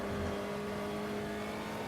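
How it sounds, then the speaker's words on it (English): Race car engine in a racing video game, held at a steady high drone with throttle blips as weight shifts forward under braking into a corner, loud and close with no talk. "Blipping the throttle to get that front end to come under load as the weight of the car shifts forward."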